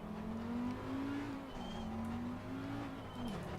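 Ferrari race car in a racing video game at Watkins Glen, its engine droning steadily and loudly throughout with a slight rise and fall in pitch, as if cruising or holding a line.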